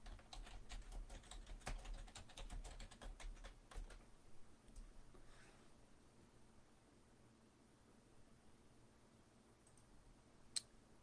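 Quiet, irregular clicks of a computer keyboard being typed on, denser early and thinning out, close and soft with a faint hiss behind and one sharp click near the end.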